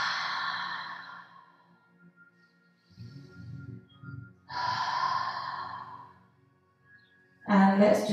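A person takes long, airy breaths during a yoga session: a breathy exhale fades out, then after quiet a deep drawn inhale and exhale, ending in a louder sharp breath, close and unaccompanied.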